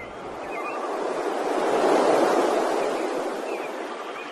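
Ocean surf rolls in as one broad wave swell that builds to a peak and fades away, with a steady wash of water and light wind and no voices.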